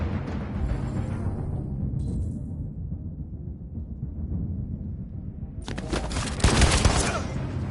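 Gunfire in Detroit: Become Human, a loud, sharp burst of several shots around the six-second mark in a game scene, preceded by a low continuous rumble and faint background tones.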